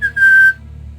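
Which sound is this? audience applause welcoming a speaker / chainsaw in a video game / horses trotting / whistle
whistle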